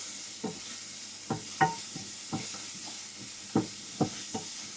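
Lardons sizzle in a dry pan without butter or oil, a steady soft frying hiss broken by several distinct stirring scrapes spaced irregularly, close and fairly quiet with no talking.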